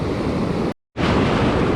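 Big ocean waves crashing close by on the south side of a coast, a loud continuous roar of surf with heavy wind buffeting, briefly cut by a moment of silence.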